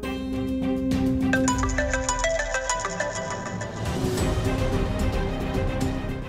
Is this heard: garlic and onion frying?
no